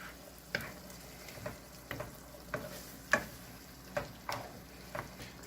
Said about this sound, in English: getting that cream cheese melted, getting everything mixed in here